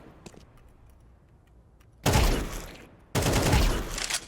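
Two loud, close bursts of rapid gunfire in Counter-Strike, each lasting about a second, separated by a brief pause and preceded by quiet with faint clicks.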